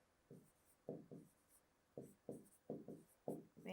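Numbers are written in a column during a maths lesson as a series of short, soft scratching strokes in quick clusters, close and quiet, with no talking.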